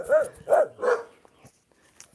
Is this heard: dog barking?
yes